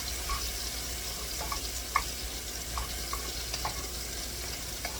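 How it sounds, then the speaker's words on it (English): Corn warming in a pan with melted butter gives a soft, steady sizzle and hiss under faint scattered pops and small clicks, with no voices. "Getting the corn warmed up with melted butter."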